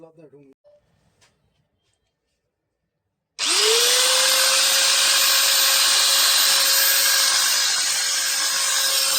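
A faulty Invicto 4-inch angle grinder with a burnt armature spins up abruptly after a brief quiet, then runs at a loud, steady high-pitched whine for several seconds with a faint dip near the end.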